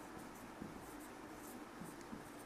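Faint scratchy strokes of writing on a board during a genetics lesson on a dihybrid cross, soft and quiet with short pauses between strokes, no speech over them.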